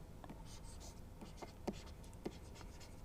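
Chalk or marker scratching out a formula on a classroom board in short strokes and taps, close and fairly quiet, with no one talking.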